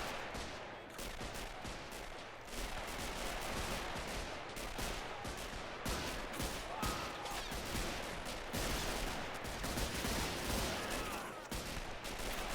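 Machine gun fire in a WW1 battle in Men of War: Assault Squad 2, Americans opening up on a German unit: dense continuous rattling volleys with overlapping shots and distant battle noise throughout.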